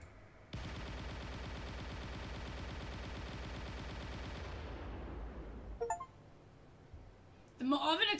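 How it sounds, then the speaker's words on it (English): An oven blows up in the horror game Dread Weight, opening with a sudden loud burst that rolls into a long dense rumble, fades out after several seconds, then brief clinks and a sharp crackle near the end. "The oven explodes, instantly roasting you alive."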